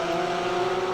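A Porsche GT3 race car engine in the racing game RaceRoom holds a steady, sustained tone at Laguna Seca, heard alone for a short moment.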